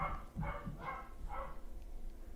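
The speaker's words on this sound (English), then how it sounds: "dogs are going nuts up there" Several dogs barking in a quick run of four or five yaps, fairly faint and muffled, from a home setting with no voices alongside.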